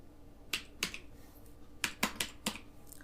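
Keys tapped on a computer keyboard while entering a captcha for an online EWS admission form, about seven crisp, close clicks in two uneven clusters with short pauses between.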